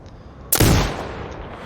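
A sniper rifle firing in the shooting game Sniper Ghost Warrior Contracts 2: a single sharp, loud report followed by a short decaying echo over faint background ambience.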